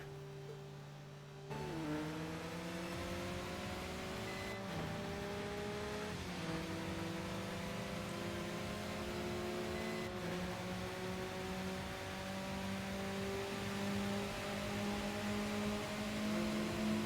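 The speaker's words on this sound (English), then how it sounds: "I'm trying to burn up my tires a little bit more" A race car in Tokyo Xtreme Racer 2025 holds a steady engine drone that kicks in after a short quiet stretch, with the pitch climbing and shifting as it revs on, faint and without voices.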